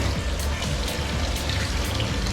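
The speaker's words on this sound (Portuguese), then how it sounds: "Essa água brota do chão e ela é com gás." Naturally carbonated hot thermal spring water bubbling up out of the ground, a steady close gurgling and fizzing trickle with repeated small splashes and no voices.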